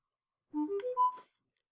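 An AquaFonik waterproof speaker plays its power-on tone, a short rising sequence of four clean chime notes lasting under a second, faint and alone against silence.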